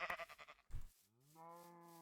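Sheep bleating in a survival video game, preceded by rapid clicking and a thud, then a long, steady, drawn-out bleat heard clearly on its own.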